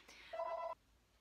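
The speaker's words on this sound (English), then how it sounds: "Sorry, it's the phone going." A telephone rings once indoors, a short two-tone electronic trill that stands out clearly against a quiet room and stops abruptly.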